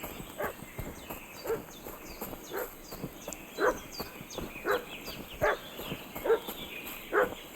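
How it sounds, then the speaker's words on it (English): A dog barking in the medieval game Kingdom Come: Deliverance 2, sharp repeated barks at a fairly steady pace over a busy outdoor ambience with a persistent high-pitched tone. "Щось собака гавкає. What's that dog making such a fuss about?"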